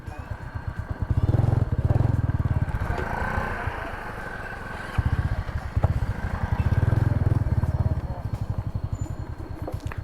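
Motorcycle of a riding group passing by on a road in San Lorenzo, Philippines, a loud close engine with a rapid pulsing putter that swells and fades twice, with a voice speaking briefly over it.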